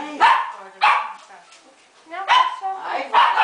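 A dog barks in several sharp bursts spaced through a lively home setting, with a child and family members chattering nearby.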